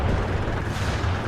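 Artillery gunfire in the video game Battlefield: Bad Company rolls as a continuous low, rumbling barrage of booms, heavy and steady throughout with no voices over it.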